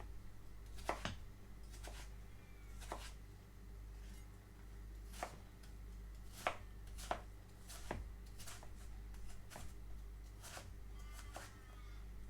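A knife chopping an apple into small pieces on a board, a quiet, irregular series of sharp cutting taps spaced about a second apart over low background hum.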